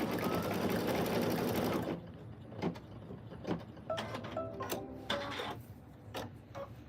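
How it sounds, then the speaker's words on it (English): A sewing machine stitching straps and fobs, running in a loud steady whir at first, then stopping and starting in short bursts with clicks and mechanical ticks, close by. "just stitching things up on the machine"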